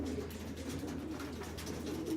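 Pigeons coo in a steady, low, overlapping murmur inside a loft housing about eighty birds, with a constant airy background and no distinct single calls standing out.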